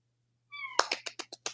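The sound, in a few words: cat meowing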